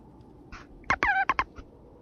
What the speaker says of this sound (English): that was me moving my mic